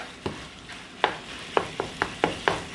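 Ground beef browning in a pan with a packet of beefy onion soup mix, a steady sizzle broken by about eight sharp spoon scrapes and taps as it is stirred up close, with no talking.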